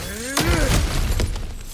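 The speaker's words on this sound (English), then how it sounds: "back to smashing through things for fun and profit" Kratos smashes through cracked ground in God of War Ragnarok, a sharp shattering crash with heavy rubble falling right after a brief voice.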